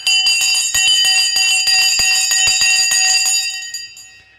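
A bell rings loudly and brightly in a steady run of rapid repeated strikes, its shimmering tone sustained for several seconds before cutting off and decaying into silence.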